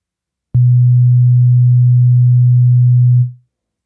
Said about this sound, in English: So we've got this B note, and this is what it sounds like again.